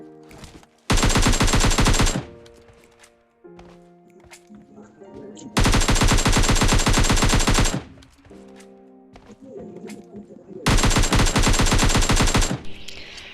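In a battle royale shooter, gunfire takes down two bots as three loud bursts of rapid automatic fire, each lasting one to two seconds, are separated by quieter gaps with faint game sounds.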